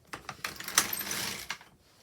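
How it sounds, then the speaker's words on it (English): The carriage of an LK150 knitting machine slides across alternate needles to knit rows: a few clacks, then a rattling, whirring sweep lasting about a second that ends in a final clack, near and fairly loud. "knit 10 rows on alternate needles"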